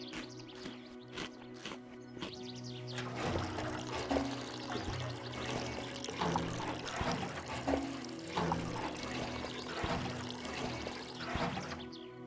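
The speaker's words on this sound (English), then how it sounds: "we'll refill our water bottles with the jerry can full of water after cleaning it with our tablets" Water poured from a jerry can into bottles in DayZ, a steady trickling stream with gurgles running for several seconds after a few quiet clicks at the start, close and moderately loud.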